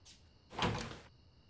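A door being opened indoors in a home, a single soft broadband swish and clunk lasting about half a second, with a faint earlier rustle and quiet background otherwise.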